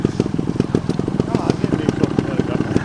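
A cold motorcycle idling up close, its exhaust putting out an even, rapid, loud pulsing beat with a bit of mechanical clatter, steady for the whole stretch.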